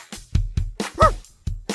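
A dog barks in a run of short, sharp, close woofs, about six or seven in quick succession with brief gaps, and one higher yelping bark in the middle.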